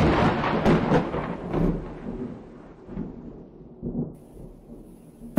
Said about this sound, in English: That is the thunder.